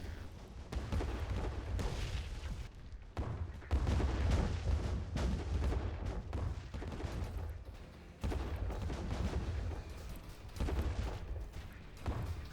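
Dense, continuous barrage of weapons fire and booms from a space fleet battle in the strategy game Distant Worlds 2, rolling explosions and gunfire-like bursts sustained throughout with brief lulls, loud and busy, no talking.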